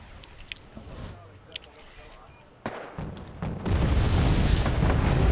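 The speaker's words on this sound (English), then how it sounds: "Down here, just constant rocket barrage." Rocket artillery barrage in Wargame Airland Battle, starting with sparse distant thuds and sharp impacts, then swelling into a loud, continuous rumble of overlapping explosions.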